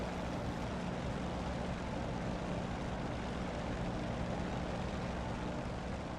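Aircraft engine in the DCS flight simulator game gives a steady, even propeller drone with broad roar, continuous and unchanging for several seconds, moderately quiet and without speech.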